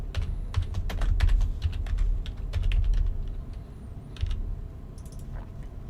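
Fingers tap on a computer keyboard in quick irregular bursts of sharp clicks, with a pause and a few final keystrokes, close up over a low rumbling background.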